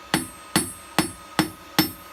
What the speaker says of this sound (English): So I'm just going to use a smaller hammer, see if I can round out the edges of this and turn it into a bit of a pin.